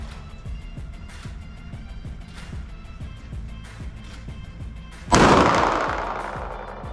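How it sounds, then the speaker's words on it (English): Gunfire aimed at a Team Wendy EXFIL SL helmet on a shooting range: a single loud, sharp shot that rings out and decays, after a stretch of repeated low thumps. "We're gonna shoot it on the left-hand side of the helmet now."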